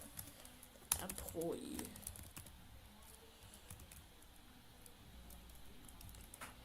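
Clicks of typing on a computer keyboard, quick and fairly faint, heard close up under a man's speech as he enters an SQL command.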